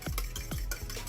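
Fork stirring and mixing breakfast pizza ingredients in a hot pan, a few quick scraping strokes with a faint sizzle beneath, close and steady.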